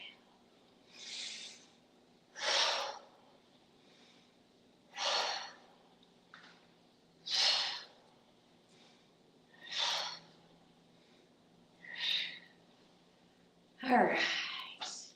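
Slow tai chi breathing, with unhurried inhales and exhales every couple of seconds. Each breath is a close, breathy rush of air, and the gaps between them are quiet.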